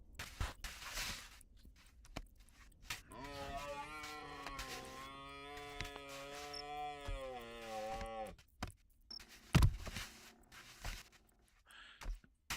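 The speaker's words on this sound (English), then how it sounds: "can someone get the sick donkey out of here?" A sick donkey brays in the video game Baby Steps: one long, drawn-out, tonal bray rises and holds for several seconds, then breaks off. Scattered footsteps and soft thuds are heard before and after it.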